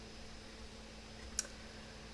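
Single soft mouse click on an OK button in Photoshop, one brief tick over quiet room noise.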